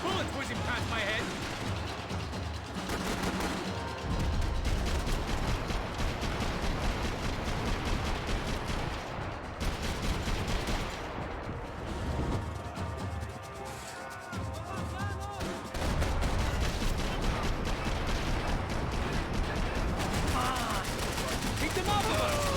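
Continuous heavy gunfire in the video game Max Payne 3, with rapid bursts of automatic shots, bullets whizzing past and crashing impacts, loud and nearly unbroken with a brief lull near the middle.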